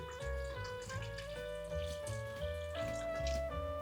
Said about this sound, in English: Now we are gonna add some filtered water. We want to cover our peas.